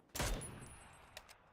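Gunfire in a battle royale video game: one sharp, distant-sounding shot with a short trailing decay, followed by a couple of faint clicks or tapping sounds, with no talking.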